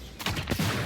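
A gun fired in the video game Avowed gives a couple of short, sharp cracks over a busy game soundtrack.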